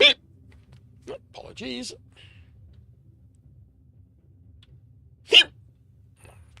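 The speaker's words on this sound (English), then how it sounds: "Yeah, got the hiccups again." A person hiccups a few times in a quiet room, each hiccup short, sharp and close, with long silent gaps between them and a brief spoken apology.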